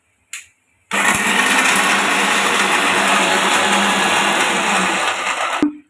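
Mixer grinder coarsely grinding dry fruits, a loud steady whirring drone that starts abruptly after a short blip, runs unbroken for about five seconds and then cuts off.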